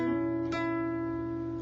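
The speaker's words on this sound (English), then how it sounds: "then we're going to play the 9th fret on the G," Acoustic guitar note at the 9th fret of the G string, played for a song. Sustained harmonic tones ring near and steady, with a small attack partway through, and no talking.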